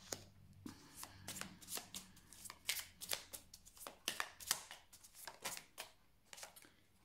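A deck of tarot cards is cut and shuffled by hand, producing a quick run of crisp riffling bursts and soft slaps, close and fairly quiet.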